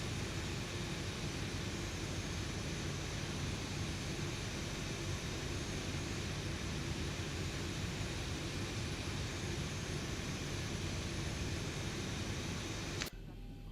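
Boeing 737-800NG jet engines idling after start, a dense continuous roar with a high steady whine, loud and unbroken until an abrupt cut near the end.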